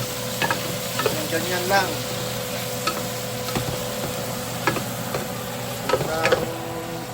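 Garlic, tomato and onion sauté in a pan with a steady frying sizzle, broken by occasional stirring scrapes and clinks; a voice speaks briefly.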